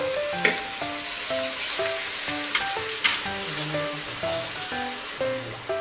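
Vegetables sizzle and fry steadily in a pan, with occasional scraping clicks from stirring, over a faint melodic background tone; no talk.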